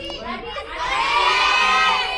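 A theater audience shouts out guesses at the same time, a loud mixed crowd of voices rising and holding, some of them high-pitched, at an Indonesian film event.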